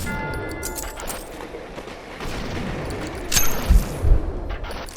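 Shotgun blasts and gunfire in a first-person video game playtest, with sustained noisy combat sound and two louder heavy booms near the end, no talking.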